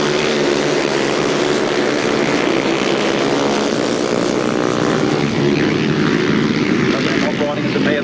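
A pack of 350cc solo motorcycles roaring away at the start of a 1994 grasstrack race, a dense, continuous engine drone that stays loud and steady throughout, with a commentator's voice over it.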